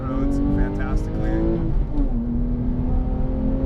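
Porsche 911 Carrera S fitted with a TechArt exhaust driving on winding roads, its engine droning and rising in pitch under acceleration while someone talks over it.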